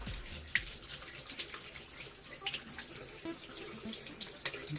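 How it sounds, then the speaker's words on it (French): Water pours steadily from a kitchen tap that sprays everywhere while waiting for hot water, a constant hissing splash into a sink with small drips and clatter, moderately quiet and close, no speech. "Mon robinet c'est de la merde parce qu'il pisse partout"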